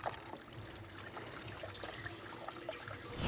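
Fluid trickling steadily out of a BMW N55 engine during an oil filter housing gasket job, a continuous close, low-level dribble with a faint splashing texture.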